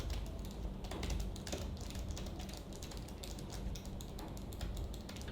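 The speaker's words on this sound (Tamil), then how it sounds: "இப்போ கொஞ்சம் லாங் டிஸ்டன்ஸில் வச்சு நான் வந்து டைப் பண்ணி காட்டுறேன்" Typing on the keyboard of an Asus ROG Strix Scar 17 gaming laptop, heard from a short distance away: steady clicky keystrokes in quick succession over a constant low background hum, with no voices.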